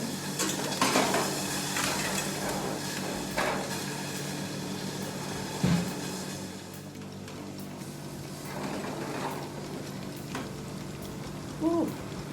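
Barbecue pigtails fry steadily in a pan as they are turned, a soft continuous sizzle broken by a few scraping clinks of a utensil against the pan, close by and without speech.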